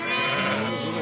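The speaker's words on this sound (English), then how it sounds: "there's a lot of lambs in this race" Lambs bleat loudly and continuously at close range, several overlapping calls from animals packed into a race, with a higher-pitched cry rising near the end.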